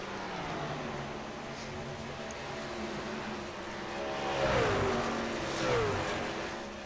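Race truck engine of Robert Wynn's number 16 Metallica truck at Charlotte Motor Speedway, a steady mid-pitched drone that swells twice as it revs and passes, with a faint voice underneath.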